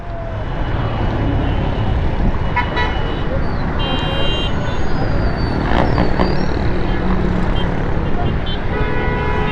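Heavy street traffic jam at Munawar Chowrangi in Gulistan-e-Johar, Karachi, with dense engine rumble and several short car horn toots scattered throughout, a voice talking over the din.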